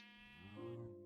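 A single wavering sheep bleat from Minecraft, harmonic and nasal, rising slightly mid-call before trailing off; faint and brief with no talk over it.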